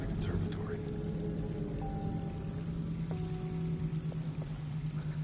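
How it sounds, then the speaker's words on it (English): Water pours and splashes continuously from a three-tier fountain in a conservatory in the video game Alone in the Dark, a soft steady rush with faint tones drifting over it. "Nice water effects, too."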